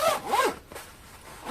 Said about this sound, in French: petite fermeture éclair